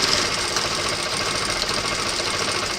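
An MS 9800-K electronic automatic thread-trimming lockstitch sewing machine stitching fabric, giving a steady, continuous mechanical whir with a fast, even rhythm, close and moderately loud throughout.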